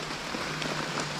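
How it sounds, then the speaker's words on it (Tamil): Heavy rain falling on Muthukora hill, a steady close wash of hiss that holds evenly through the whole short stretch, with no voices over it. "நல்ல மழை பெய்யுது"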